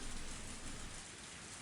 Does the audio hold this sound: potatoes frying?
no